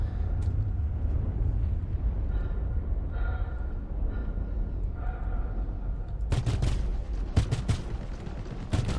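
Gunfire from a Behring Sawbuck ballistic repeater in Star Citizen, a long continuous low rumble of rapid shots, then a cluster of sharp, bright, loud cracks near the end.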